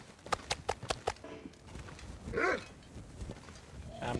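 Wolves growl in The Long Dark, a rough snarling burst around the middle of the clip, after a run of short rhythmic thuds and under faint background noise.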